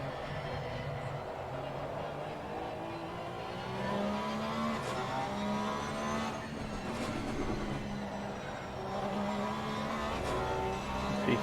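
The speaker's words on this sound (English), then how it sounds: "Being very aggressive with the Porsche there" A Porsche race car engine in Assetto Corsa Competizione at Brands Hatch drones steadily, its pitch climbing and dropping through gear changes and lap sections, with a voice faintly present underneath.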